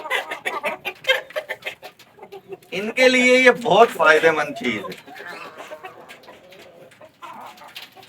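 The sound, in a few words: chickens clucking (laying hens)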